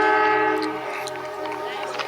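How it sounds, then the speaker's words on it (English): A train near Machu Picchu in Peru sounds its horn with sustained harmonic tones while rolling past, loud and close, with brief clicks and knocks over the steady rumble. "Whoa, it's a train."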